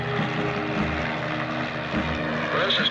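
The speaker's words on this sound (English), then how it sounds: "How about getting the helicopter down?" A helicopter approaches near a mountain, its rotor and engine making a loud, continuous drone with a rhythmic low thump throughout. Faint radio voices may sit underneath.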